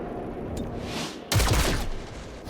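Rapid gunfire bursts from the turn-based tactics game XCOM: Chimera Squad, loud and close, with a sharp volley snapping in halfway through after a softer energy-zap buildup.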